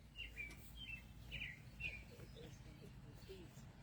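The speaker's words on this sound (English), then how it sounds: "Birds will just join us while we preach." A bird chirps in short, bright bursts during an evening anniversary program. Several quick calls come early, faint and a little distant, over a low room hum.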